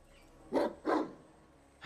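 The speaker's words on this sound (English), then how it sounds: "Shut up, Zeke, you stupid dog." Zeke, a dog in the Guild Wars 2 video game, lets out two sharp barks in quick succession, close and clear over a quiet game background.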